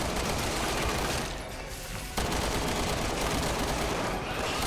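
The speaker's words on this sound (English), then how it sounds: "Believe it or not, I'm not firing full auto. That's semi-auto." Rapid semi-automatic gunfire in the Resident Evil 6 video game, a dense, continuous barrage of shots loud throughout with a brief dip in intensity midway before resuming at full volume.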